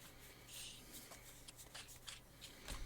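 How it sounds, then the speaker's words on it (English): Faint, soft riffling and rubbing of a deck of playing cards being shuffled, with a steady low hum underneath and a few brighter flicks scattered through the short stretch. "Before I end my shuffling, I'll actually put in 2 more."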